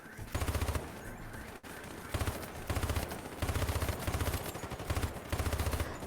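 Enemy soldiers in the video game Hypercharge: Unboxed fire repeated rapid machine-gun bursts, several short rattling volleys in a row with brief gaps, loud and close over game background sound.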